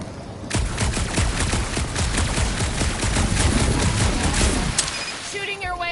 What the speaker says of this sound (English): Shooting your way out of every problem again, Peter?